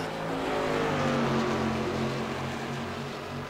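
Simulated modified race car engines in an iRacing Bootleg Outlaw Modified Series race at Five Flags Speedway, including the number 36 car, with a steady, loud, buzzing engine drone and overlapping tones that shift slightly.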